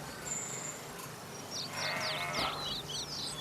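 Sheep bleat in a wavering, overlapping chorus from about two seconds on, rising over a steady outdoor background hum with no talking.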